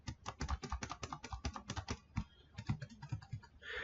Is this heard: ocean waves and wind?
no